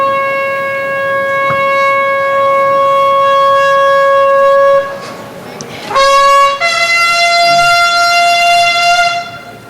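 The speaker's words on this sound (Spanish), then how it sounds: "Ese es el sonido de esa corneta heráldica que da la señal para que se haga el" A heraldic bugle sounds at a festive procession, loud and close. It holds a long steady tone, breaks off briefly, then returns at a higher pitch and sustains to the end.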